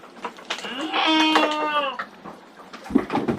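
A Garut sheep in a pen gives one loud, close bleat lasting about a second, wavering and nasal, over a faint murmur of pen noise and rustling.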